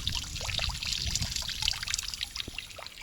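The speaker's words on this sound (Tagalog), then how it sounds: "Ang tubig na to, bukal to mula sa bundok at malinis." Clean spring water from a mountain in the Swiss Alps trickles and pours steadily nearby, a bright burbling stream with small splashes and no voices.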